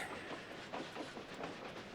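During a train ride in the Tomb Raider game, a steady, faint rumble and rhythmic clatter of rolling rail cars runs throughout, with no talking.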